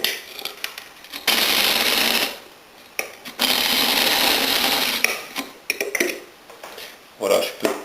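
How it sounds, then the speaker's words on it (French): A blender grinds dried citrus peels, lemon among them, at low speed for soap-making, in bursts of coarse, rattling whir separated by short pauses. "je vais démarrer le mixage avec une vitesse de rotation relativement basse pour briser déjà les gros morceaux"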